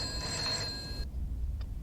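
A telephone bell rings in a steady trill for about a second, then cuts off, leaving a quiet room with a faint hiss; moderately near, with no talk.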